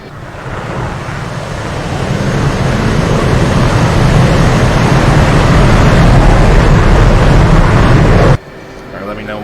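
An F/A-18C jet takes off in DCS World, a loud broad engine roar swelling steadily for about eight seconds before cutting off abruptly.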